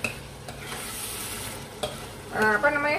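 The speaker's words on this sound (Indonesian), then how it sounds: "kita godok dulu sama sambalnya sebentar ya" Meat simmers in spiced sambal in a pan, giving a continuous close sizzle with scraping stirs, and a louder burst of bubbling near the end.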